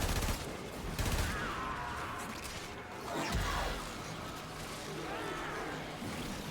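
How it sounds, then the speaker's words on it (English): Rapid bursts of the Barrington weapon firing in the video game Warframe, sharp cracks at the start and around three seconds, over a dense, busy layer of game effects and noise. "the Barrington's so much fun weapon to use"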